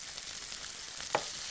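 Green pepper, chopped red pepper and onions frying with cooked lamb in a pan, a low steady sizzle with a couple of brief stirring clinks near the end.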